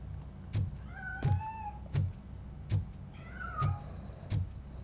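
A cat meows repeatedly in the game Robocop: Rogue City, with short tonal cries interleaved with regular dull thumps roughly every three-quarters of a second, fairly close and with no talk.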